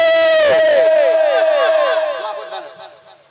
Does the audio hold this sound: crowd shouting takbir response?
yes